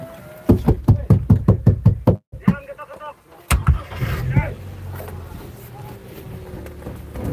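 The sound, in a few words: knocking on a car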